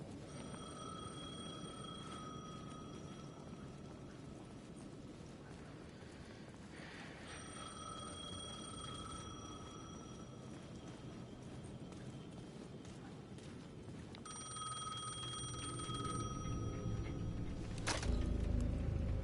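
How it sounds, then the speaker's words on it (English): A payphone in the video game Alan Wake II rings repeatedly with steady bell-like tones over a low rumbling ambient background, moderately loud and without talk. "The payphone at the edge of the plaza was ringing again."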